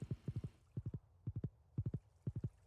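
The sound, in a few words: horse hooves clip-clopping, from a video game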